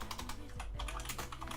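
Quick bursts of keystrokes clatter on a computer keyboard over a low background hum, close and continuous through a short stretch.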